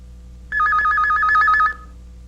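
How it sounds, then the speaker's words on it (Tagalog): A telephone bell rings in a steady trill of rapid pulses for just over a second, clear and close, with quiet room tone before and after. "ring po kasi yung telephone"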